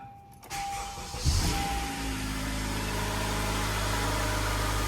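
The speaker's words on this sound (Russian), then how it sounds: "Стартер повесили на место. Пробуем заводить, да?" A car engine cranks with its freshly reinstalled starter motor, catches after a brief whir, and settles into a steady, close, continuous idle hum with no voices over it.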